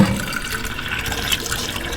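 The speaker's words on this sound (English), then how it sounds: "So I'm gonna fill up using the Kangen machine." Water running from a Kangen water machine into a bottle, a steady hissing gush with faint splashing throughout, close and moderately quiet, with no voices.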